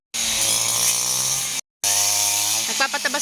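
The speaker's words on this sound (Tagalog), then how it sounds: "Grass cutter." A grass cutter runs on a two-lot, 64-square-meter plot, its motor whining in a loud, steady buzz that cuts out briefly and then restarts, with some faint talk near the end.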